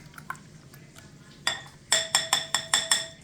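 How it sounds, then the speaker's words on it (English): Utensil stirring meat in a pan while eggs and cheese are cooked on low heat, a run of about six sharp metallic clinks at a steady rhythm, close and fairly loud. "So a couple more stirs of the meat"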